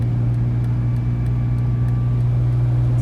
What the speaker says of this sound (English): It's actually riding kind of okay for it being on a flat tire.